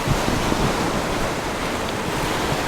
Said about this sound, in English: waves breaking in the rocks